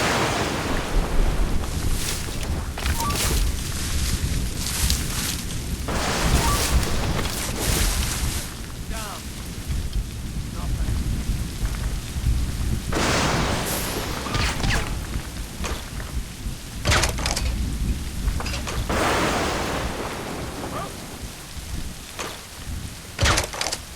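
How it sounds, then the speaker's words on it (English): A worsening storm in Assassin's Creed Rogue, with steady rain, gusting wind and surging waves roaring continuously, swelling in louder bursts every few seconds; a voice speaks briefly over the din. "This storm's getting worse."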